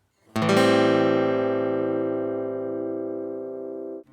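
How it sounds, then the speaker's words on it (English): A minor 7 chord rings out alone, struck once with a sharp attack and sustained as a rich, steady stack of tones that slowly fades over about four seconds before cutting off. "The minor 7 is a very versatile chord found in many styles."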